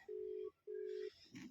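Two steady electronic ringback tones from a phone call being placed, each about half a second long with a short gap between them. They sound faint and thin, and a brief rustle follows.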